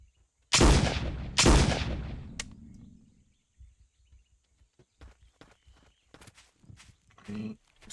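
Two loud, close gunshots about a second apart ring out in JP Trespasser, each with a long booming tail, then quiet footsteps and faint shuffling follow.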